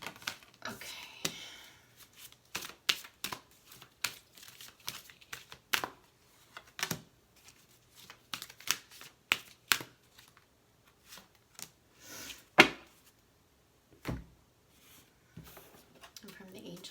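Angel card deck shuffled by hand: a run of close, sharp riffling flicks and card slaps in irregular bursts, with quiet pauses between and no talk.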